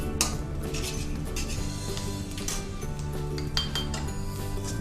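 Gobi (cauliflower) pieces for Gobi 65 are stirred in a metal pan, a spoon scraping and clinking against the metal in irregular taps over a steady low background.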